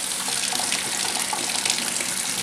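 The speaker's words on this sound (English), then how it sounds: "I'm going to go to the sink, put the cold water on, and then just see how freely it flows" Cold water runs from a kitchen sink faucet in a steady, close hiss and splash, continuous and unbroken, with no talking.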